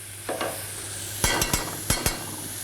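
Butter goes into a pan of sizzling chanterelle mushrooms, giving a steady frying hiss broken by several sharp scraping stirs of the pan, close and clear with no talking.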